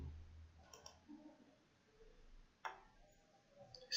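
A computer mouse clicked during web design work, a few small sharp clicks spaced apart against a quiet background.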